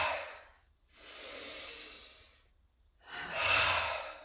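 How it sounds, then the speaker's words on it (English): Three slow, breathy exhales through an open mouth during a yoga session, each a soft, airy rush lasting about a second, separated by brief pauses and close to the microphone. "Open mouth, exhale from the heart."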